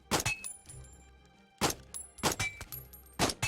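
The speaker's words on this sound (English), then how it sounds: "Try to shoot all of them." Target shooting in the VR game Out of Ammo: several sharp, close gunshot cracks come in quick clusters, with quiet gaps between them.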